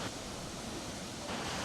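The Guryong waterfall at Mount Kumgang cascades, heavy mist rising from the falls, as a dense, steady broadband roar heard without a break, fairly faint and even throughout.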